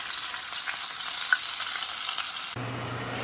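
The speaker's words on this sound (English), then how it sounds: "Let's see what cooking a steak in the Ninja Foodi XL looks like." A steak sizzles on the grill of a Ninja Foodi XL, a steady close hiss and crackle of frying with a few small pops, then a low hum takes over near the end.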